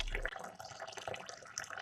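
Water gushing irregularly from a stainless pipe into a bucket, sputtering with trapped air bubbles from a solar heater hot water line; a steady, fairly loud splashing flow with uneven bursts, heard close by.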